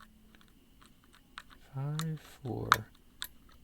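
A pick works the pins of a Master Lock Model 15 laminated padlock, giving faint scattered clicks and crunchy scraping, with a person talking quietly over it.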